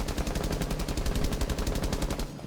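Thermite's gun fires full-auto in Rainbow Six Siege, a loud, steady, rapid string of shots lasting over two seconds before it abruptly stops.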